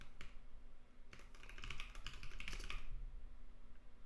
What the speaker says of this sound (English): That was a lot of typing to get here